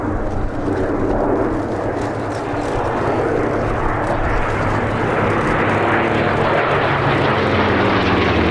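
Propeller aircraft fly formation aerobatics at Sywell Airshow, Sywell Aerodrome, a loud continuous engine roar and drone that holds steady throughout, with a slowly shifting pitch as the planes pass.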